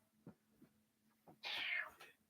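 A cat gives a single drawn-out meow partway through, fairly close, against a quiet room with a few soft knocks and thuds before and after it.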